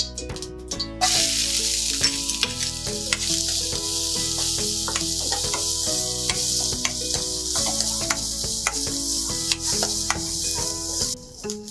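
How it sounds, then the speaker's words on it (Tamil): Steady sizzling of chopped onion and mustard seeds frying in hot oil, with a constant hiss and scattered crackles and pops throughout; no one speaks. "வெங்காயம் வதங்கிருச்சு."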